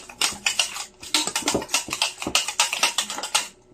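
A spoon mixes batter in a bowl during home baking, giving a rapid, uneven run of clinking and scraping taps against the bowl that continues steadily without talk.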